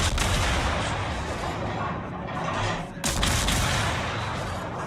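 Naval guns fire in a World of Warships battle: dense, continuous booming salvos and rumbling blasts fill the clip, loud and close, with a brief dip just before a fresh heavy volley.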